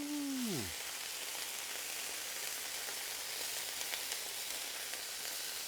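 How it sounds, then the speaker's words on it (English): Shrimp dropped into hot oil for a seafood gumbo crackle and sizzle steadily up close, a dense frying hiss that continues unbroken after a brief tonal sound at the start. "we're gonna drop these shrimp on here. We kind of cook them down a little bit."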